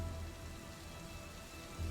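Steady rain falling on a surface, a soft, even patter of drops with no other sounds, fairly quiet and unbroken throughout.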